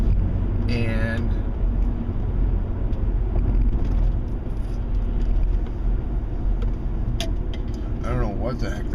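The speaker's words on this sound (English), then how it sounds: "I don't know what the heck that truck was" A truck that is on fire and smoking drives past on the road, its engine and tyre rumble forming a steady, fairly close roar while someone talks over it.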